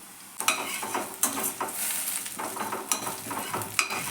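Beaten egg sizzles and fries in a hot pan for egg fried rice, a steady loud crackle with scattered sharp clicks of a spatula stirring against the pan, no voices.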